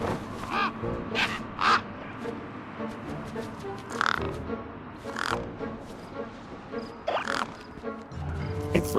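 Bird calls in the video game Beyond a Steel Sky, a series of harsh, crow-like caws repeating irregularly over a busy ambient game background, fairly close and loud with scattered knocks and clatter.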